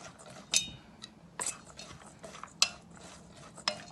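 Broccoli and cauliflower florets being tossed and mixed in a bowl, giving a few sharp clinks and clatters at irregular intervals over a soft rustling background, with no talking.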